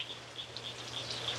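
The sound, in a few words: frogs calling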